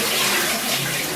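Banga water for Ofe Nturukpa soup pours in a steady, close, splashing stream with no talking.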